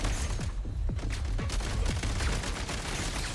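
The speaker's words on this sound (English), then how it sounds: "Oh, I'm supposed to grenade launch them." A grenade launcher firing in the game Genshin Impact, a loud, continuous storm of thumping shots and booming blasts packed closely together under a constant roar.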